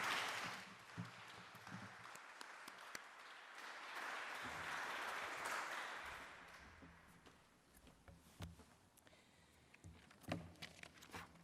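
An audience at a University of Toronto gift announcement applauds to welcome Mayor John Tory, a sustained wash of clapping that fades gradually, heard from a distance and fairly quiet.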